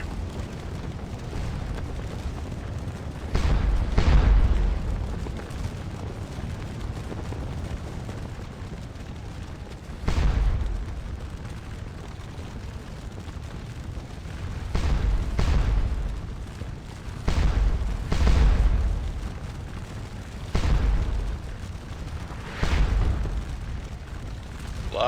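Artillery cannons fire in Scourge of War Waterloo during the Ligny battle, a series of deep booming blasts spaced several seconds apart over a low rumbling battlefield background.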